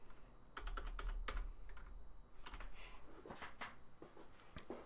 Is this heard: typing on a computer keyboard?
yes